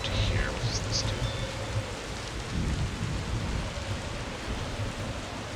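A thunderstorm in the video game Dungeons 4: steady heavy rain and rolling thunder rumble fill the whole stretch loudly, with a few brief higher tones near the start.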